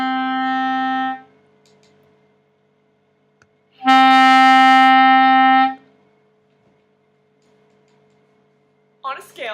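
D note on a small wind instrument fingered with the first two holes and the back hole, sounded twice as clear sustained pure tones separated by a pause, with a brief noise at the end.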